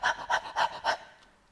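A voice imitates rapid, shallow breathing: four quick, close panting breaths in an even rhythm, then a trailing fade into quiet.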